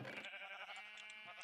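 A Minecraft sheep gives a single faint, drawn-out bleat, heard alone.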